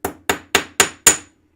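A hammer drives a small piece into a pierced hole in a craft project, five sharp close strikes landing in a steady rhythm about a quarter second apart, each ringing briefly before fading.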